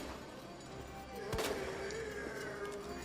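Grenade launcher firing flame rounds in Resident Evil 2: a single sharp burst lands mid-clip over steady background game noise, followed by a sustained rising tone.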